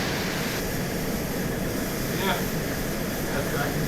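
A plane's engine drones steadily while it flies in ArmA 2, a constant broadband roar with no breaks. A voice talks quietly underneath, and faint higher swishes and whooshes pass over the hum.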